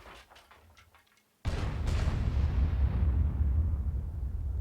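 A loud, booming shell hit strikes a T30 tank in World of Tanks, bursting suddenly after near silence and trailing into a long rumbling roar.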